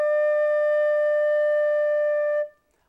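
A beginner holds a single sustained D note on a flute, a clear, steady, pure tone lasting a couple of seconds before stopping cleanly into silence.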